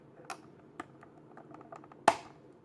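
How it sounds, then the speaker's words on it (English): An X-Acto knife slicing open plastic toy packaging for a Jurassic World Legacy Collection Pachycephalosaurus: a string of faint, scattered clicks and ticks, then one sharp, louder snap near the end. "got my handy X-Acto knife, and let's go ahead and cut this open right there"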